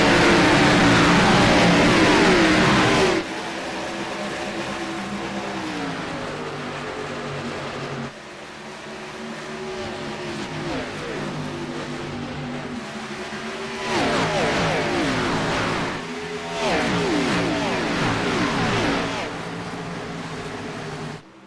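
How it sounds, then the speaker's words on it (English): Race car engines roar at the start of an AREA Pro Series race at Darlington in the iRacing video game, a dense field of engines revving and accelerating with rising and falling pitch sweeps, loud and continuous under a commentator's voice. "Time to crank up the engines, light the fires, and spin the tires."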